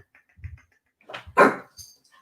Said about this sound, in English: My dog's going to bark, guys